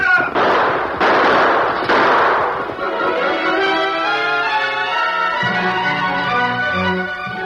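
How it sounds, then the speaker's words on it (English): Three sharp gunshot bursts in quick succession, loud and close, ring out in an old-time Western radio drama as three startled men fire at the masked Lone Ranger, followed by a swelling dramatic orchestral music cue. "The 3 men, startled by the sudden appearance of the Lone Ranger, fired a few shots"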